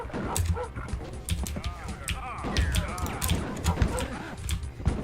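A dog in the Rise of the Triad video game yips and barks repeatedly over busy game noise and a talking voice.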